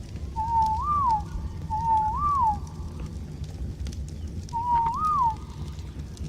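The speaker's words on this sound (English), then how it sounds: "I hate all these whistles." Command whistles in the video game ARK: Survival Evolved, three short rising-and-falling tonal whistles, two in quick succession and a third after a pause, clear over a low steady background hum.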